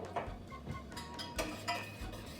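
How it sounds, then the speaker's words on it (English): A spoon clinks and scrapes in a bowl while butter is stirred into cocoa powder, a light, irregular run of small taps and knocks up close, with no voices. "When you mix that butter with the cocoa, it dissolves it real well"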